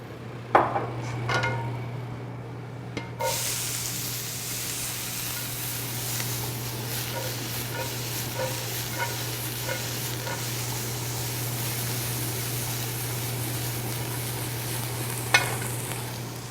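Onions sizzle steadily in hot oil in a pan after landing with an initial burst, with occasional stirring clinks and scrapes of a utensil against the pan over a continuous frying hiss.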